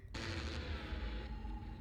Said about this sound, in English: just head to the perfectly calibrated planet cannon and load yourself in